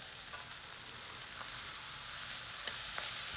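Ribeye steak searing in a pan with melting compound butter, a steady close sizzle and fry hiss running throughout with a few faint pops and no talk.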